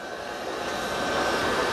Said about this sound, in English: it's going to go to the docking station and remove the mop pads